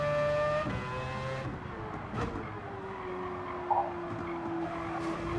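Mazda Spirit racing car on the Trial Mountain track in Gran Turismo, a high engine whine with falling gear pitch and sharp tire squeals through corners, steady and loud without talk.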